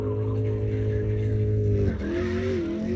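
A car drifts in the video game CarX Drift Racing Online, its engine holding a loud steady drone under a continuous tire squeal that dips and shifts pitch partway through as the slide changes.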